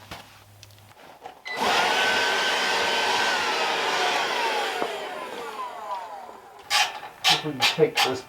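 Compressed air hisses in a steady loud blast for several seconds as debris is blown off a part of a Wood-Mizer LX150 sawmill, tapering off before a few short bumps and knocks. A voice is faintly heard.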